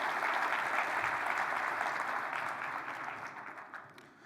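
An audience at the GreenBiz 20 opening address fills a large hall with sustained, dense clapping that welcomes a speaker onstage, holding steady before gradually thinning and fading toward the end.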